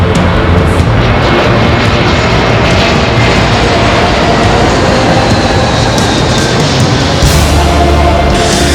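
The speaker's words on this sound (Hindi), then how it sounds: "पहली बार सफर कर रही हूँ और वो भी सीधा हवाई जहाज में" Steady, loud broadband roar of an airplane in flight, heard continuously as a dense cabin-style drone with no breaks, sitting close and filling the whole stretch without any voices.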